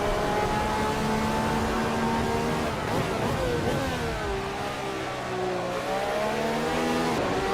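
A race car engine in a sim racing video game roars continuously, revving up and dropping through gear changes with a hard downshift midway, heard close and loud with commentary voices underneath.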